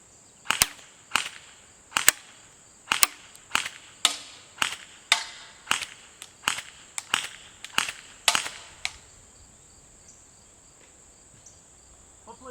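An airsoft gun fires about a dozen sharp, snappy shots at a Caldwell ballistic chronograph, spaced roughly evenly for several seconds. A constant high electronic whine runs underneath, and the shots stop near the end, leaving quiet.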